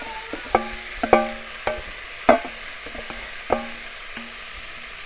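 Banana blossom is stirred and fried in a pan, with a spatula clanking against the metal in a loose rhythm of sharp, ringing knocks over a soft sizzle.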